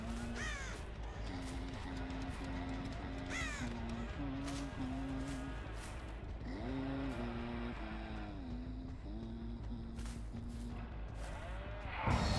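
Crows caw again and again in Dead by Daylight, a string of harsh calls that sound fairly near, over a steady low hum from the game. A louder rush comes at the end.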